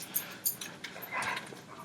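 A dog whimpering and yipping nearby in short, high whines, a few separate cries and then a longer whine, with no speech over them.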